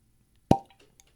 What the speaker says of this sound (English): Brand new bottle, cork pop